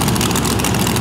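Monster truck engine warming up at an All Star Destruction show in Davie, a loud, steady, low rumbling roar from the arena floor.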